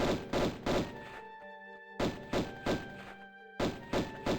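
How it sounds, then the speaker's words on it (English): Shots fired at an enemy in the N64 Tomb Raider game: three quick clusters of dull thudding reports, each a rapid run of three or four hits, separated by short pauses with a faint ringing tone between. "I'm just gonna sit here and fucking shoot him like this"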